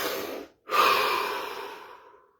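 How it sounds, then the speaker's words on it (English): A single slow, deep breath during a core exercise session: a short airy exhale, a brief pause, then a long, full inhale that fades away gradually, close and clear with no talking. "Take a deep breath."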